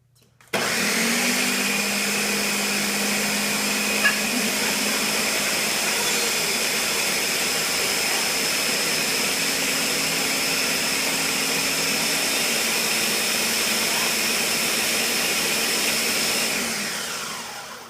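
Kitchen blender pureeing a meal of food including peas for a blended tube feeding, a loud, steady high whine that starts abruptly, holds for about sixteen seconds and then winds down.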